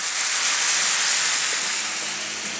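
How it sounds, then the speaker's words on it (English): Onions, garlic and oregano sizzle in olive oil in a pan as an Italian antipasto meatball base, giving a steady, loud, close hiss with no talking. "we're going to saute the onions, the garlic, and the oregano"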